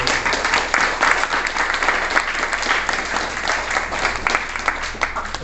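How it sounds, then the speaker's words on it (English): Audience at a regional forum on homelessness applauding the panel guests, steady, dense clapping from a room full of people, loud and sustained throughout without letting up. "let's put our hands together for all the panel guests"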